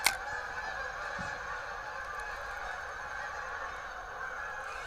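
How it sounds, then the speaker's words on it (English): A large flock of geese honks continuously in the distance in fall, a dense chorus of overlapping calls outdoors, with one brief close knock at the start. "That is a lot of geese right there."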